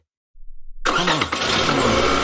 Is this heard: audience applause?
no